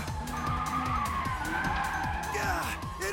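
Cars racing down a mountain road in the anime Initial D, tires squealing in repeated skids over a loud, steady engine roar, with a voice talking over the action.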